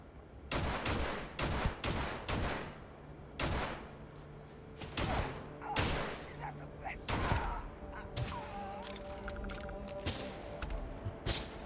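Bursts of gunfire in the space game Starfield, several loud, close volleys and rapid shot clusters separated by short gaps, with talking mixed in among the shots.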